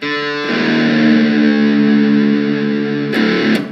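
A single distorted electric guitar note on the D string, from a riff, rings out and sustains, buzzy and loud, with a brief pick scrape near the end.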